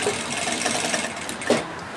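A sewing machine runs steadily while stitching an invisible side pocket, a close, continuous mechanical whir with a brief louder knock near the end.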